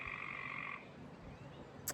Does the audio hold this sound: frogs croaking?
yes